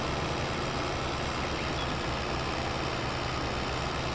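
A tractor engine idles in Farming Simulator 22, giving a steady, dense low rumble with a broad even roar that holds without change throughout.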